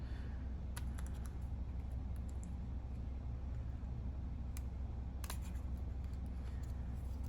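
Scissors snipping through card stock while someone cuts out a handle shape for a Mad Hatter card, sparse crisp clicks scattered at irregular intervals over a low steady background hum, with no talking.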